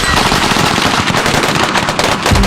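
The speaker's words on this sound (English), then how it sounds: "This was one burst out of my one Gatling gun on this area." A continuous burst of rapid automatic fire from a hand-cranked Gatling gun, loud and close, dense overlapping reports running unbroken for a couple of seconds with no pauses.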